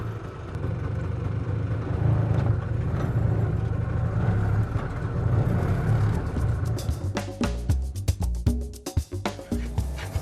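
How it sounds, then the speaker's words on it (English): Tuk-tuk engine running steadily with a low motor drone while being driven, near and continuous, with road noise and a burst of sharper knocks and clatter toward the end. "I have convinced Shambhu to let me drive his tuk-tuk"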